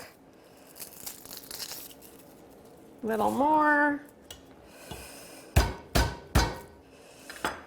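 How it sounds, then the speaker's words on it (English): Garlic cloves being smashed on a kitchen board while making bok choy fried rice, a few sharp thuds landing late in the clip after a spoken phrase. "So here I am smashing the garlic."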